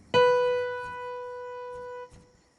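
A single B note, a semibreve held for a whole bar, struck once and sustained evenly for about two seconds before it cuts off, clear and alone.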